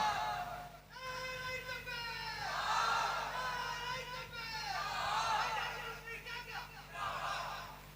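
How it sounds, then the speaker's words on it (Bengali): A large gathering at a Bengali Islamic sermon shouting a takbir chant in unison: several swelling waves of many voices calling out together, rising and falling, heard through a loudspeaker-like hall ambience. "একবার তাকবীরের ধ্বনি দেন নারে তাকবীর জোরে হবে না নারে তাকবীর"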